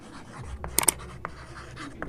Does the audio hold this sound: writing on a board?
yes